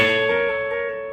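An electric guitar sounds on the G string, one sustained, ringing note cluster that slowly fades within about a second, heard alone with no talk.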